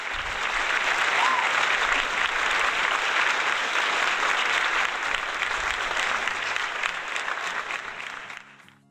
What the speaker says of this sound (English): yes, the clapping